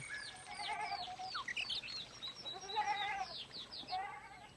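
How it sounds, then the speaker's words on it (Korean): Goats on a family farm that keeps about thirty of them bleat over and over, several wavering calls overlapping at close to middle distance, with faint bird chirps in the background. "이 가정에서도 30여 마리의 염소를 기르고 있습니다"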